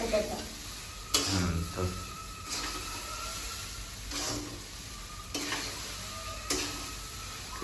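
Grated potato fries in a pan with a steady sizzle and hiss, broken by a few sharp bursts of stirring or tossing. Someone talks now and then over the cooking.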